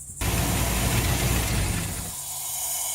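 Ford SN95 car engine idling steadily with some wiring unplugged, a loud, close, continuous mechanical rumble with a ticking clatter, starting abruptly and settling slightly lower after two seconds.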